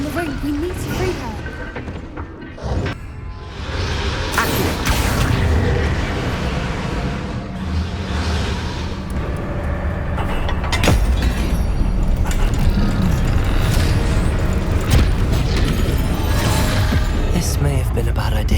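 Hogwarts Legacy spellcasting, with Bombarda, Confringo, Incendio and Glacius blasts, crashes, whooshes and impacts piling into a loud, dense clash that runs throughout, while a voice calls out over the combat.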